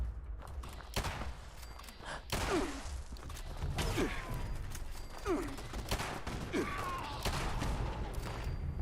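Automatic gunfire in Fallout 76 comes as sharp bursts of shots over busy game noise, with scattered whooshes and mechanical sounds in between.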